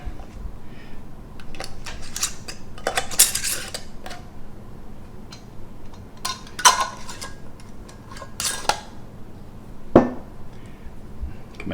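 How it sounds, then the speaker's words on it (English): Metal lids set on and screwed onto glass canning jars of homemade peach pie moonshine, giving scattered clinks and clatters with a few sharper knocks, fairly close, alone over a low room hum. "you just put your lid on"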